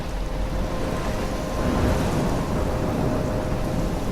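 Steady, heavy rain roars with a low rumble of thunder through a thunderstorm in the video game Life is Strange, loud and continuous with no voices.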